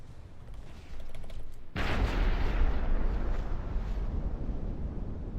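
Heavy gunfire in the naval game From The Depths pounds a hobgoblin vessel, bursting in abruptly after quiet and then holding as a loud, dense, continuous roar of shots.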